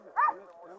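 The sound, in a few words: dog barking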